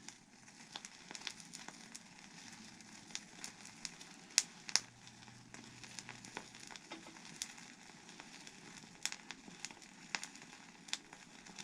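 Charcoal lit for a sage smudging ritual crackles faintly, with sparse, irregular snaps and pops over a quiet, steady hiss.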